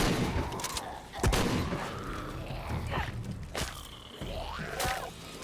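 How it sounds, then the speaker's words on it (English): Shotgun fire in Shadow of the Tomb Raider, a few sharp, loud blasts spaced irregularly among thuds and mechanical clatter of combat. "Shotgun."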